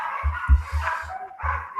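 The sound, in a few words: dog barking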